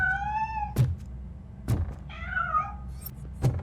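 A cat in the video game Robocop Rogue City meows twice, clear and fairly close, among dull thumping footsteps or knocks.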